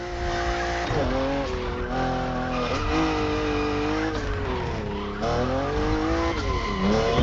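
Tires squeal and wail continuously as a 1,000 hp BMW M4 drifts in a racing video game, the pitch bending and sliding over a loud, roaring engine.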